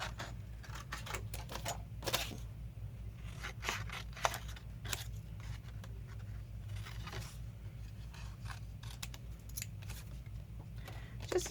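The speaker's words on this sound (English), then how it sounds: "I'm cutting these tags up a little bit" Paper tags and little ticket pieces cut with scissors for a mixed-media art journal, giving soft, close snips and crisp slices in an irregular rhythm over a low steady hum, with no talking.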